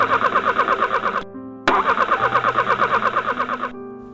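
A car engine cranks repeatedly in a loud, rhythmic starter whir, pauses briefly, then cranks again at length without catching, close and dominant.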